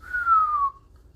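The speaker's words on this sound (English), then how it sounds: "Barto kind of whistles" A character gives a single clean whistle lasting about half a second, a gliding tone that slides slowly downward, up close and with no talk over it.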